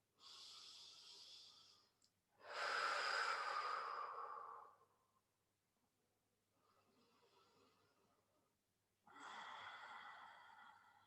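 Slow, deep breaths during a relaxing fertility yoga session: long airy inhales and exhales, close and fairly soft, repeating in an unhurried rhythm with brief quiet pauses between, no talking.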